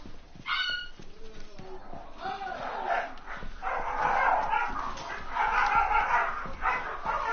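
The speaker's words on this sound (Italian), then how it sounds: "A me che abbaiano gli odio i miei cani, raga." Dogs bark in a tactical shooter match of Rainbow Six Siege, with repeated mid-range barks and yips sitting under ongoing game noise and voice chatter throughout.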